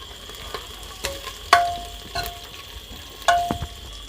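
Onions and three chopped chillies fry in a pan for a potato dry sabzi, a low sizzle broken by sharp scraping and tapping of a spoon stirring against the metal at irregular intervals.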